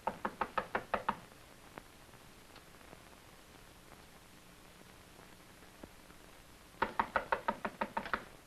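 Two bursts of sharp, rapid knocking on a door, about six raps each, at the start and again after a long quiet pause, close and distinct against faint background hiss.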